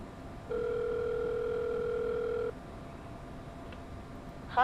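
A steady two-tone phone dial tone sounds for about two seconds while placing a cell phone call, moderately loud and alone, then cuts off, leaving faint background hiss and a brief electronic chirp at the end.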